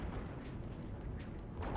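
Ship weapons fire in EVE Online, a quick series of muffled thumping shots over a steady low hum, faint and spaced a few beats apart, with no talking.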